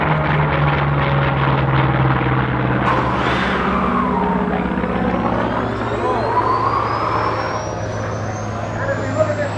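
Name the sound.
propeller fighter plane flying at air show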